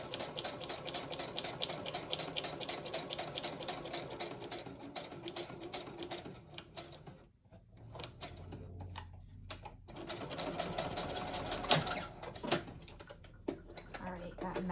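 A sewing machine runs steady, rapid stitches around the edge of a green journal cover, pausing briefly midway before resuming close by, with a voice speaking over it.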